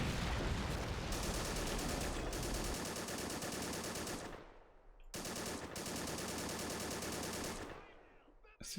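Rapid automatic gunfire in a war video game, a long sustained burst that stops briefly and then resumes in a second long burst, loud and close with no pause for talk.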